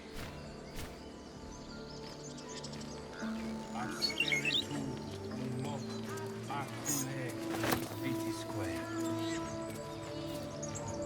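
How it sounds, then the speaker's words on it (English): A small bird in the game Baldur's Gate 3 chirps and sings in bright, scattered phrases over low ambient hum and rustling, with a louder burst of song midway. "The bird is singing."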